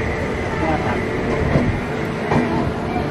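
A passenger train pulls out of Faridabad station with a steady rolling rumble and a couple of rhythmic clickety-clack wheel thumps, heard from on board or close by under background hum.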